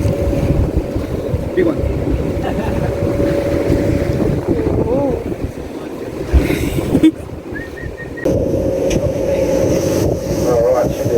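Wind roars steadily across a boat out on Milford Sound, buffeting the microphone under a constant low engine drone. Voices speak briefly over the noise.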